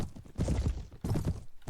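Horse hooves clip-clopping in the video game Mount & Blade Warband, two quick clusters of muffled hoof thuds close by, with a short gap between them.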